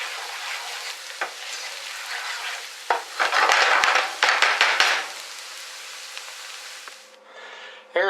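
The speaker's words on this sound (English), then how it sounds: "The onion's nice and almost translucent enough right now. So just mix that up a little bit." Onions frying in a pan with a steady sizzle while being stirred, scraping bursts rising in the middle, close and alone until the noise briefly drops near the end.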